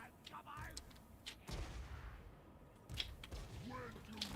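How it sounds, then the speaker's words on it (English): Artillery pieces fire in a Warhammer fantasy strategy game, with sharp booming cracks at intervals over fainter battlefield clatter and chirping unit noises. "The artillery shots are getting good deeps though."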